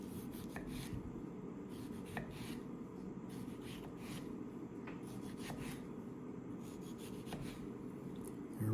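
Serrated tomato knife sawing through a tomato, a series of soft scraping cuts in an irregular rhythm, close and quiet with no talking.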